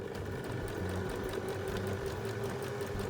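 Sewing machine stitching a fabric face mask with black thread, a continuous fast mechanical whir with a rapid, even needle rhythm, close and steady throughout, no talk.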